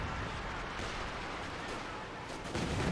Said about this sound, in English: Long-range barrage, lots of scatter, almost taking out the Stern Pioneer.